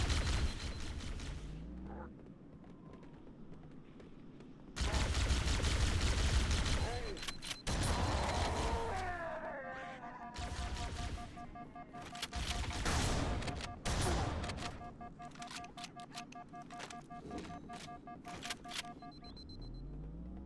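Gunfire in Halo: Combat Evolved Anniversary on Legendary difficulty, with loud bursts of shots and blasts coming in clusters among electronic game effects and tonal chimes over about twenty seconds.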